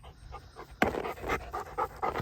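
A dog eating garden tomatoes pants rapidly and rhythmically up close, quick breathy puffs with a louder burst partway through.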